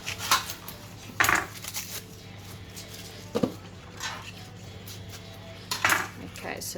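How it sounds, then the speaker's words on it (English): An onion being cut straight into a baking dish: a handful of scattered, fairly close clinks and knocks against the dish, separated by quieter gaps. "I'm going to cut it straight into my baking dish."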